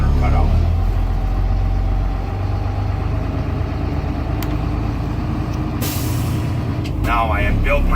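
A school bus engine idles steadily and loudly to build air brake pressure, with a sharp air-release hiss near the end and a few brief squeaky mechanical noises.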